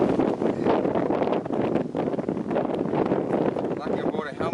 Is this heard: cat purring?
no